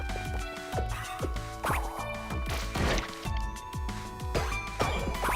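Heavy attacks in the video game Anuchard slam objects with repeated thudding, splashy impacts, spaced every second or so over busy game music.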